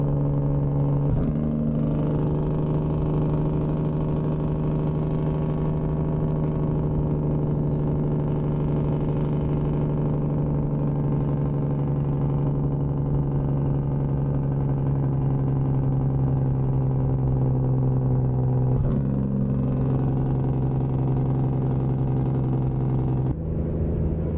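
Kenworth W900 truck from American Truck Simulator, stock SES model fitted with an engine mod, idling and revving in a steady deep rumble with clear low harmonics, brief throttle changes near the start and end, no talk.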